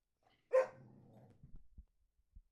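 A single sharp dog bark near the microphone, followed by a short trailing growl and a few soft thumps, in an otherwise quiet room.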